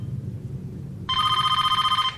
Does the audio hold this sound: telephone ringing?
yes